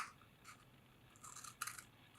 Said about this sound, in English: Grab your second uncut toilet paper roll, and we're going to cut 2 small slits on one end, about 1/2 inch of length